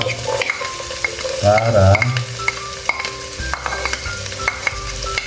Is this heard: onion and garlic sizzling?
yes